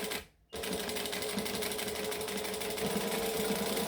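A sewing machine runs steadily for several seconds after a brief pause, stitching backward and then across a crossbody bag, with a close, continuous whirring hum.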